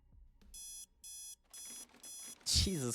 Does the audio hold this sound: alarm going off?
yes